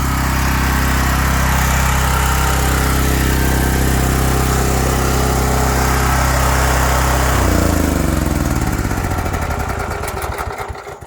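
A Honda 390 engine driving a Comet pressure-washer pump for surface cleaning runs loud and steady at close range, then shuts off and spins down with a falling drone and sputter over the last few seconds.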